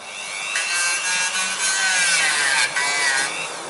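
A car brake part is sanded by hand, a steady close abrasive scraping in long rubbing strokes with short pauses between passes, alone and fairly loud.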